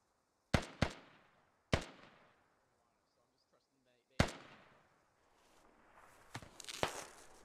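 Gunfire in an Operation: Fish Hook video game match: several sharp, isolated shots spaced by quiet gaps, then a denser cluster of cracks near the end.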